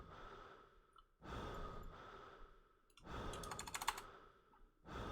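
A player character breathing in the video game Shivers, with slow deep inhales and exhales repeating about every two seconds, soft and close, plus a few faint keyboard clicks between breaths.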